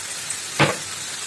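Ginger garlic paste frying in a pan gives a soft, continuous hiss, broken by one short, louder sizzling burst partway through.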